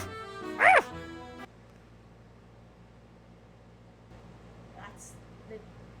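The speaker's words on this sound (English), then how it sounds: "The dog leaps up from underneath the golden eggs." A dog gives a single short bark early on, with a faint whimper and low room hum afterward, while a person talks over it.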